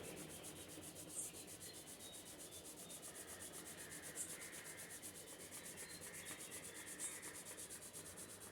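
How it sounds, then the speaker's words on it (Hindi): Palms rubbed briskly together during an eye exercise routine, a steady continuous swishing friction close by, with no talking over it. "फिर से हथेलियों को रगड़िए।"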